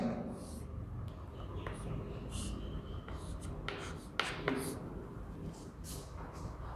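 Pen scratching out a maths solution on paper, with soft irregular strokes and scrapes close up over a steady background hiss, and no clear talk.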